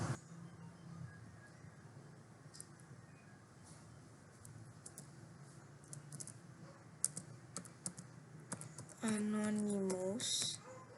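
Rapid, uneven clatter of keys on a computer keyboard, close but fairly quiet, under steady background hiss, ending in a brief louder tonal burst.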